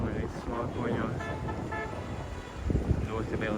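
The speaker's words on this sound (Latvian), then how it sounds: "Ļoti liels hauss, trokšņi, pīpināšana." Street traffic in Kandy, Sri Lanka, with cars passing and short horn toots sounding amid wind noise and a speaking voice.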